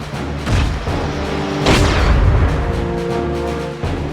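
Missiles explode in the mech strategy video game Front Mission 4 with deep booming blasts, a loud burst at the start and a bigger rolling explosion midway, amid dense, continuous game sound effects and rumble.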